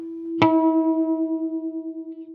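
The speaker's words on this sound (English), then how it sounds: "That corresponds to the note of that harmonic, which is also the same pitch as the high E string." A single plucked guitar harmonic at 330 Hz, the pitch of the high E string, rings out clearly and sustains, a pure steady tone slowly fading with a gentle wavering pulse.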